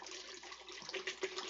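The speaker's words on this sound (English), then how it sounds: "So I just dump in the water" Water poured into a drink container makes a steady, splashy, gurgling stream that runs the whole time, close by and moderately loud.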